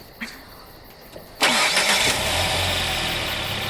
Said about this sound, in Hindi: क्रिस्टीन, क्या तुम इंजन चालू कर सकती हो?